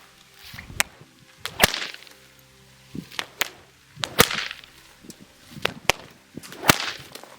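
An 8-foot bullwhip gives repeated sharp, loud cracks, about a dozen over several seconds. Each crack follows a brief whooshing swing, in an uneven rhythm, close by with no voices.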